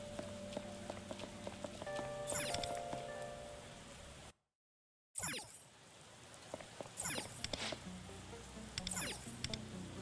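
Rain patters steadily in the video game Persona 5 X, a soft continuous wash with scattered droplet taps, briefly cut by a gap of silence, with game music tones and chimes over it.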